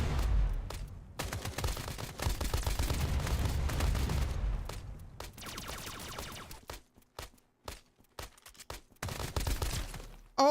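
Assault rifle fire in a shooter video game, long bursts of rapid automatic shots, loud and close, thinning into scattered shots and pauses toward the end.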